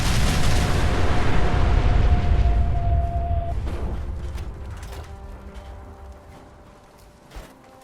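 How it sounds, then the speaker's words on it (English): A video-game nuclear bomb, launched from a handheld catapult, goes off with a loud, broad explosive roar that rumbles on and slowly fades over several seconds, with a faint mechanical thump near the end. "it's a weapon where you throw a nuclear bomb using a handheld catapult"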